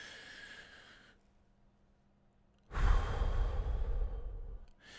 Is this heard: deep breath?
yes